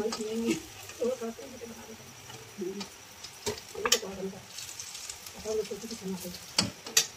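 Dal chawal khichdi cooking in a kadhai, with soft sizzling, scattered ticks and stirring clinks beneath someone talking over it.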